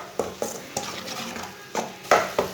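An eggplant omelette of beaten eggs cooks in a pan, with repeated sharp scrapes and taps of a utensil against the pan in an uneven rhythm over a soft background hiss.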